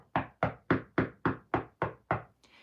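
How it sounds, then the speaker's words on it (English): Eight sharp knocks on a wooden door in a steady, even rhythm, close and clear, followed by a faint trailing sound, used as a storytelling sound effect. "There was a knock on his door."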